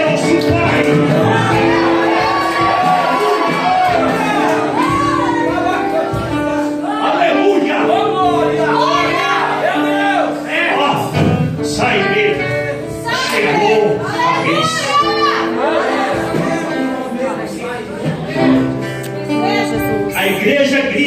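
A church congregation shouts together in loud, repeated bursts of massed voices, mixed with music and a leading voice, full and close throughout.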